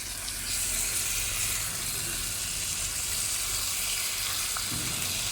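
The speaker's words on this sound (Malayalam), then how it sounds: "നല്ല രുചിയായ മീൻ ഫ്രൈ റെഡിയാവും" Fish coated in masala fries in a pan, giving off a steady, dense hiss of sizzling oil that fills the whole stretch at an even level, with a faint clink near the end.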